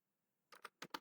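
Typing on a computer keyboard, heard as four quick, crisp key clicks in a rapid pair-pair rhythm, close and fairly quiet against near silence, with no voices.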